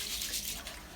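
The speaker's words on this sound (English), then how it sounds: "I'm going to use my same technique to wash the rice." Sushi rice is washed in water at a sink, a brief close splashing and sloshing of water with grains swirling, with no voices.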